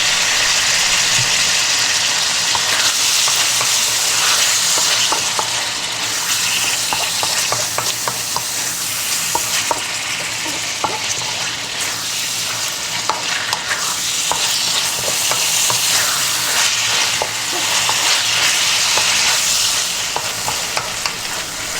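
Chicken and cashews stir-frying in a hot pan with salt and pepper, a steady loud sizzle broken by frequent scraping and clacking stirs throughout, with no voices.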